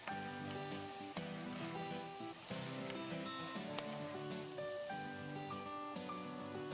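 Tomato paste sizzling in hot oil for Uighur lagman, a steady crackling fry with occasional sharp pops, quiet and close, with a faint musical tone running underneath.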